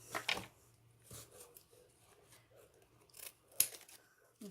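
Scissors snipping the ends of ribbon on a gift box, a few short crisp cuts spaced apart, close and fairly quiet with soft handling rustle in between.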